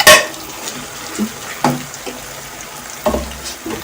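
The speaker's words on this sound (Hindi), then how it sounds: "अच्छे से साफ करना है बर्तन को" Running water splashes as a cooking pot is scrubbed and rinsed in a home kitchen, with clanks of metal against the sink rising through a steady, close rush.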